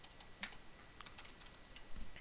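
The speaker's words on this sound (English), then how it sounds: "I'll just type it live with you" Soft, quiet clicking of keys as someone types on a computer keyboard, irregular taps close by with no voices.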